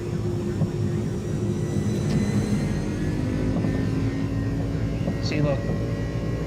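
Engines of an Airbus A300 in Microsoft Flight Simulator 2020 spool up to takeoff thrust, giving a steady, dense roar that fills the whole span, with faint chirps and whines on top.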